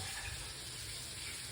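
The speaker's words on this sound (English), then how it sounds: "So you want to make sure you wash them off very good from the baking soda" Fruit being washed under running tap water, a steady, faint hiss of flowing water with no talking.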